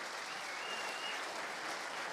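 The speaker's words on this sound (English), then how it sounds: "I just wanted you to hear the applause from the crowd" A crowd applauds at a darts world championship final, a steady, continuous wash of clapping throughout that sounds distant and even, with no single voice standing out.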